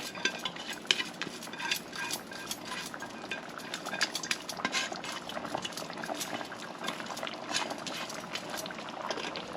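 A spatula scrapes and stirs oxtail cooked Cuban style in a pan, giving a continuous busy clatter of metal scraping with light clinks over a steady sizzling, bubbling bed, moderately close and without voices.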